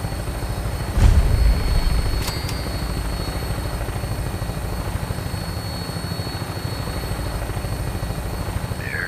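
Vertibird aircraft from Fallout 4 on final approach to an airport, a steady close rotor drone with low thumping beat throughout, a brief louder swell near the start.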